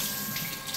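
Water runs from a sink tap in a holiday apartment in Spain during hand-washing of clothes, a brief steady hiss of flowing water close by with no voices.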